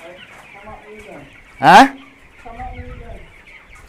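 Chickens cluck in short, soft, close bursts as they walk around, broken by one sharp loud squawk midway. Faint voices can be heard among them.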